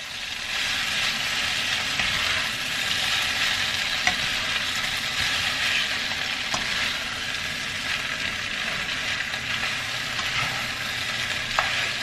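Mauritian chow mein noodles fry in a pan, a steady bright sizzle with occasional soft clicks of stirring, close and continuous.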